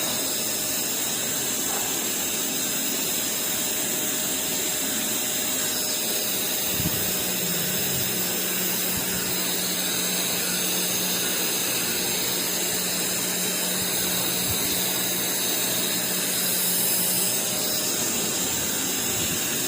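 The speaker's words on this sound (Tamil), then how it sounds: "கம்ப்ரஸர் ஃபுல் ஸ்பீடு எடுக்குது" Panasonic inverter air conditioner outdoor unit, its fan motor converted from DC to AC, with the compressor running at full speed: a steady, loud mechanical whir and hiss with a constant hum, unbroken for the whole stretch.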